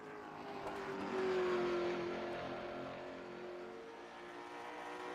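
A late model race car engine drones on the track in iRacing, a steady, moderately distant roar that swells slightly and then eases off as the car runs through the turn.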